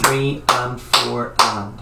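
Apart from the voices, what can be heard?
hands clapping an eighth-note rhythm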